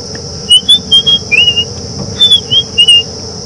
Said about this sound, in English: there is also the sound of a white-browed scrub robin, which seems to be a little bit confused about the time of day